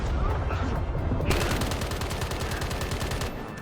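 Flying artillery enemies in the video game Eden Lost fire in a loud, dense barrage of rapid gunfire-like blasts that grows more intense partway through and runs without a break.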